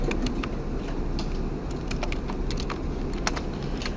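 Rapid, steady typing on a computer keyboard during a computing class, with dense, close clicking keystrokes running throughout and no talk.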